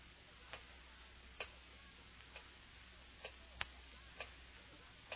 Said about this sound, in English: Terrible clock.